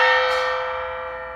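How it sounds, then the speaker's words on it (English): A flat gong, a tam-tam, is struck once, giving a bright shimmering crash that rings on and slowly decays without a clear pitch. "on a gong that's flat like this, it has a crash sound rather than a tone"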